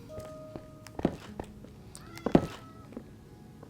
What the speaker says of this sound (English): This is one of the only 2 times I ever tried to have cats walking around like this.